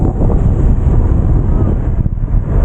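Strong wind buffets a microphone on a bicycle ride with a tailwind at over 35 km/h, a loud continuous low roar with rumbling gusts and no speech.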